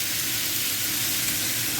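A kitchen extractor fan whirs steadily over a pork and vegetable stir-fry sizzling in a pan, producing a constant broadband hiss with no breaks and no voices.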